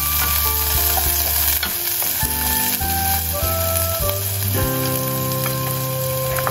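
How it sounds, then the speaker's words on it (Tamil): Onion, cinnamon and cardamom fry in a little oil in a hot pan while being stirred, a loud continuous sizzle under steady tonal music, with no talking. "பேனை சூடு பண்ணிட்டு கொஞ்சமாக ஆயில் சேர்த்து அதில் வந்து பட்டை சேர்த்துட்டு அதுக்கப்புறமா 2 ஏலக்காய், வெட்டி வச்ச வெங்காயம் எல்லாம் சேர்த்துட்டு அதை நல்லா ஒரு பையனை கிளறி விட்டுருங்க."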